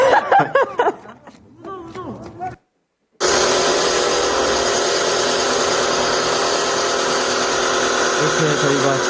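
A power tool whines steadily and loudly as students cut parts for their own build, a continuous grinding drone that follows a stretch of speech and a brief silence.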